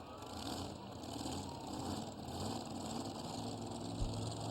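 An old tractor engine runs at a tractor pull, pulling through the dirt with a steady, loud drone and a constant rough mechanical roar, with no pauses or voices.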